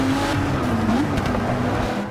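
A Ford GT in Forza Motorsport 6 roars at steady high revs, a loud continuous engine drone with no voices.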